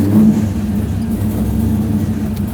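A car engine revs and runs steadily while Sydney drives, a loud, close, continuous rumble with slight surges and no voices.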